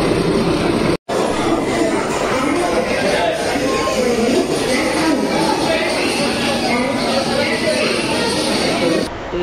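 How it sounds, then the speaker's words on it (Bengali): Saraighat Express pulling into platform 9 at a busy Indian station, a steady loud rumble of the train with crowd chatter and voices over it, one brief cut partway through. "3:30 সরাইঘাট এক্সপ্রেস ঢুকে গেল"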